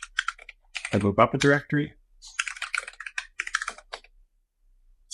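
Fingers type on a computer keyboard in quick clusters of close, crisp key clicks, with someone talking over part of it.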